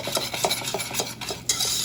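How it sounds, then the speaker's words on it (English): A whisk scrapes and stirs sugar into hot melted butter in a pan, a rhythmic run of close, gritty swishes with light metallic ticks, steady and alone without talk. "Whisk all that sugar into that hot melted butter."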